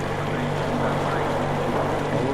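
A boat engine running steadily in the Metro Exodus video game, a continuous loud low drone with a rumbling texture and no break across the short stretch.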